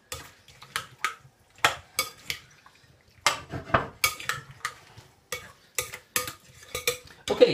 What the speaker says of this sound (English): What we'll do now is just mix this up, okay, so we can see exactly what our consistency of our potato salad is.